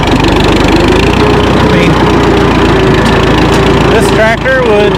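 An Oliver 770 tractor engine runs steadily and loud throughout, a constant rumbling drone close by while hauling hay, with someone talking over it.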